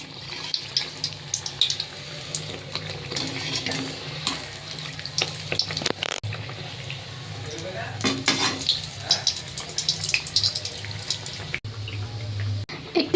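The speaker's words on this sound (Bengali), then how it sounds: "দেখুন মালপোয়াটা কত সুন্দরভাবে ফুলছে" Malpua batter frying in hot oil, a steady broadband sizzle and bubbling that runs throughout with clattering bursts and stirring noises layered on top, loud and close.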